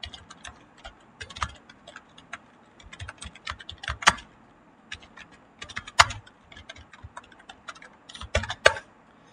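Fast, irregular clicks of a computer keyboard while Python code is typed, close and crisp, with short pauses between bursts of keystrokes and no talking.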